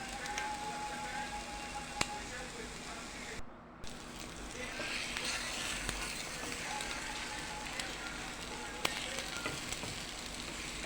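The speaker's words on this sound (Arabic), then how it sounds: "هنقلب البيضاية كده بالراحة ونكون موطين النار، ونتأكد ان البيضاية استوت معانا" An egg fries in a pan over low heat, giving a steady soft sizzle throughout with a few faint clicks and a brief dropout in the middle.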